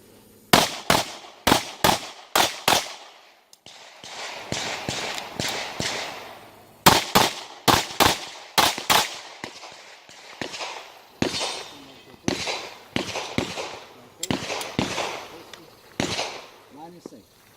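Pistol shots at a USPSA Production division match stage ring out in sharp, loud, close bursts of two, with brief pauses between strings, including a longer gap suggesting a reload on the move. A voice is audible between some of the shots.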